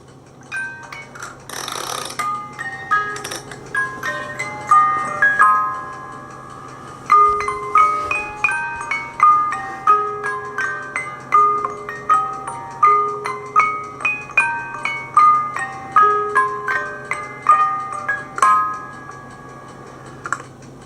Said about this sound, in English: I'm going to play some music.